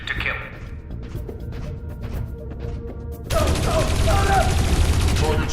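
Gunfire in the video game Dreamfall Chapters, a dense rattling barrage that swells abruptly louder halfway through and keeps pounding without pause.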